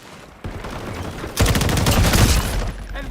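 MechWarrior 4 multiplayer weapons fire in a dense, sustained barrage that starts quieter, then jumps to a loud, continuous roar of rapid shots before easing slightly.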